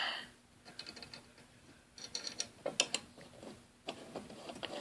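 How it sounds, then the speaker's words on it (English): Small screws clink and rattle as they are set back into the cover of a General Electric start/stop control switch, a series of light, irregular metallic ticks up close, with no talk. "So we'll just go ahead and put our screws back in here."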